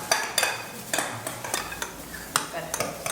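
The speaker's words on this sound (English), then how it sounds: "and then we keep folding." Tiramisu cream being folded in a bowl during a cooking class in Rome, with repeated scraping clinks of a utensil against the bowl, soft and irregular, close by.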